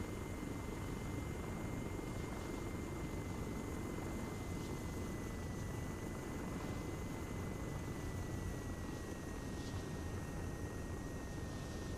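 A video-game helicopter flying with its tail rotor lost, a steady loud rotor and engine drone running unbroken throughout.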